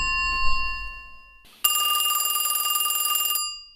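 A telephone bell rings in an audio play, one long ringing burst with a rapid trilling pulse after a brief tonal chime and a low rumble, loud and close.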